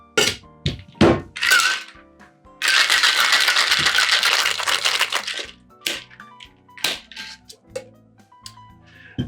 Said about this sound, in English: just a gentle shake with ice